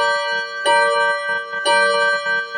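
A Seiko wall clock chimes the hour, two clear bright strikes roughly a second apart, each ringing out with a long metallic decay, close and alone.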